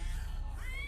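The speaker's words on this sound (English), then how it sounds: "Cat attack!" A cat in a horror film scene where cats attack, meowing and yowling loudly over a constant low rumble, with a rising wail near the end.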